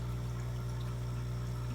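Water runs through the sump pipes of a cichlid aquarium with a 35-gallon long sump, making a steady, even rush over a constant low pump hum, with no pauses or voices.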